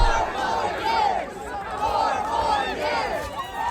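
Crowd at the Iowa State Fair cheering for Donald Trump, a dense mass of voices with repeated chant-like swells rising and falling over a steady background of crowd noise.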